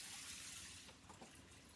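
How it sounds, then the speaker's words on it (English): Chicken broth from a half-full carton is poured into a crock pot as a faint, steady liquid gush. It splashes softly and unevenly toward the end, and no one speaks. "I had a box of this chicken broth already open. I think there's about half a box in this. I'm going to pour it in."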